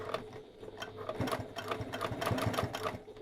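A home sewing machine runs a long basting stitch at stitch length 6 along a bag's seam allowance, its needle clattering in a fast, steady mechanical rhythm, close and fairly loud with no talk.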